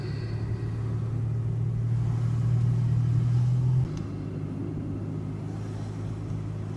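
A car on an autumn drive accelerating to pass: a steady, close engine rumble and road noise that swells for a few seconds, then drops back to an even cruising drone, with no talk.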